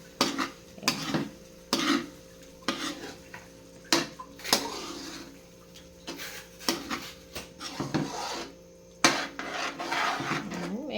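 Ground pork being stirred in a pan for a Filipino giniling dish, with repeated scraping and clinking of a utensil against the metal, irregular and close, over a low sizzle.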